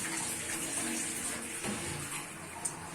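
Chicken liver being washed under a running kitchen tap, a steady close hiss of flowing water filling the whole clip with a brief splash near the end.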